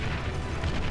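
The heaviest Armada Tier 2 tank in the real-time strategy game Beyond All Reason fires a big area-of-effect shot, a dense, loud, low booming rumble that fills the whole second with no talk.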